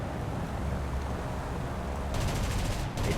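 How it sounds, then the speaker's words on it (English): German vehicle's machine gun in the War Thunder game, rapid bursts of gunfire breaking out over a low rumbling engine drone in the second half, with a brief pause between bursts. "It has this machine gun in the front"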